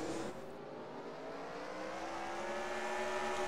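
Race cars drag race side by side past the start-finish line at a beach oval dash-series race. A steady, loud engine roar rises in pitch as they accelerate, close by and continuous.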